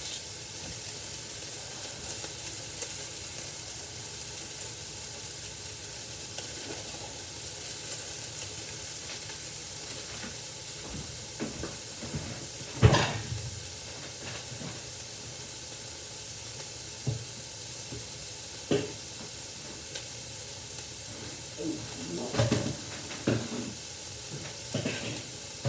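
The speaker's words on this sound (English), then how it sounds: "I'm going to take this garlic now and add it to my sauté mixture." Garlic sizzles in a sauté pan for a Greek chicken-cauliflower rice soup, a steady close hiss with a few sharp clinks and stirring knocks scattered throughout, no voices.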